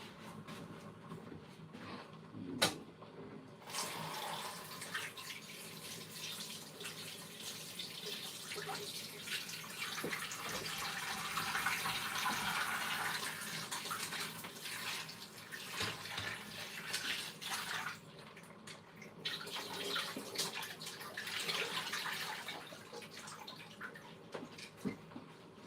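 Water runs steadily from a tap during washing up, a broad continuous hiss that swells and eases over its length, with clattering bumps and no speech.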